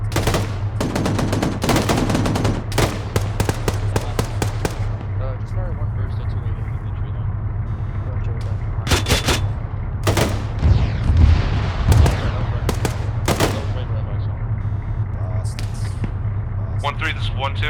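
Automatic gunfire bursts crackle in ArmA 3 during a squad training operation, sharp clustered volleys near the start and again around the middle, over a steady engine-like hum with occasional radio voices.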